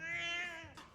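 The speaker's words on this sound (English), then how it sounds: "if this cat don't chill, you're gonna have to put it outside" A cat meows in the animated movie Soul, one drawn-out, clear meow close up that tails off at the end.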